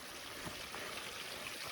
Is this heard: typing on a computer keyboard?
no